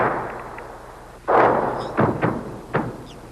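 Syrian artillery guns open fire in a series of booming reports, one heavy blast followed by several sharper shots spaced over a few seconds against a constant background rumble.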